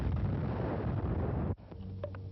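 A wartime mortar shell blast rumbles loudly and continuously, then cuts off abruptly into quieter scattered debris and faint tonal sounds, with no speech.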